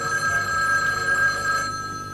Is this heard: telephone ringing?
yes